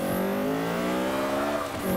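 A Mini in Forza 5 revs hard with wheelspin, its engine note climbing steadily in pitch, loud and close, with a faint tire squeal underneath.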